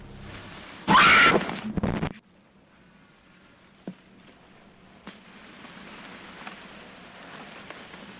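A person screams once, loud and close, a shrill burst of about a second that cuts off sharply, followed by a quiet stretch of faint rain-like patter and a few small knocks.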